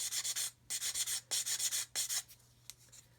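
Sanding a small plastic part for a 1/32 Kitty Hawk OV-10 Bronco scale model, heard as four quick bursts of close, raspy rubbing strokes in a steady rhythm, then a couple of lighter, shorter scrapes.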